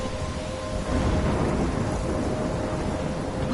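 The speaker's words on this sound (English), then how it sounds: "I'm trapped in a storm?" Thunderstorm in the game Life is Strange: a steady wash of heavy rain with rumbling thunder rolling underneath, loud and continuous throughout with no pauses.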